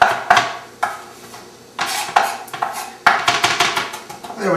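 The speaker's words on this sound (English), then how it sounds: "I'm going to go ahead and cut up some basil. Chop that up." Knife chopping roughly through fresh basil leaves on a cutting board, a few clustered bursts of quick sharp taps close by, with pauses between them and no talk.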